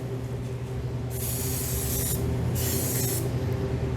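Non-stick release spray aimed at a baking tray in two separate hissing bursts, each about a second long and close by, over low background hum.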